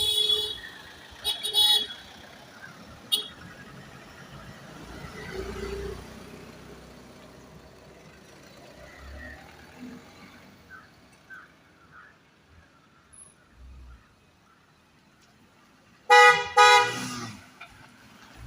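Pilgrims' vehicles on the Sabarimala pilgrimage pull in with a short burst of horn toots at the start, quieter engine and crowd rumble in between, then a longer, louder series of honks near the end.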